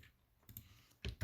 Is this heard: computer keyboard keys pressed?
yes